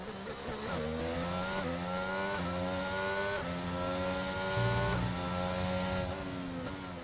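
F1 race cars in a Bahrain esports race scream past at high revs, their engines rising and falling in pitch through gear changes, loud and continuous with slight overlapping engine layers.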